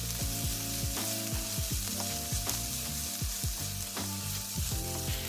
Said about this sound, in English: we're going to bring back our chicken. We're going to go ahead and mix them up together, let them cook for a couple of minutes